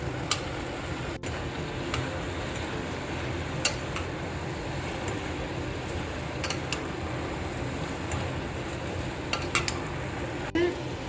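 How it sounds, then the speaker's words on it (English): Carrot halwa with khoya cooks over a high flame in a pan, giving a continuous dense sizzle alongside scraping and stirring, with scattered sharp utensil clicks against the pan, steady and close throughout, with no voice. "Now we will cook it on high flame"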